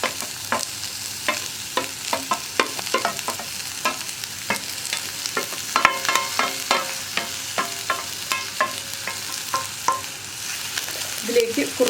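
Sliced onions and green chillies sauté in hot coconut oil for an egg roast curry, a steady sizzle broken by frequent scraping stirs of a spatula in the pan, close and continuous, with no talk.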